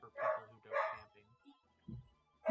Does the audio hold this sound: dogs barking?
yes